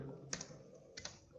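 Soft clicks of a computer keyboard as a SQL query is typed, a couple of faint keystrokes close by over a quiet room hum.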